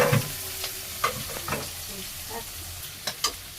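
Onions sizzle softly in a hot pan in a Bangladeshi village kitchen, with a few scattered scrapes and clacks of stirring breaking through the quiet frying hiss.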